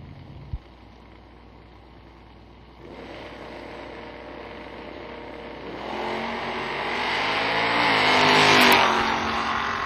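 A GMC Sonoma pickup truck drag racing in the left lane at a drag strip event revs, then accelerates hard with its engine note rising steadily and growing louder over several seconds before easing off.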